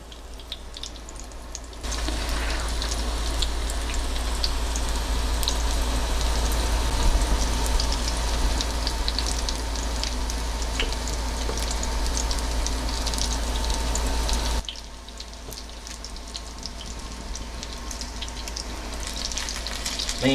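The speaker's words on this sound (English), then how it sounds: "So we'll just stick these in the oil." Tuna and egg patties fry steadily in a thin layer of oil, a continuous close sizzle and crackle that starts abruptly and holds evenly for about thirteen seconds before dropping back to a quieter background.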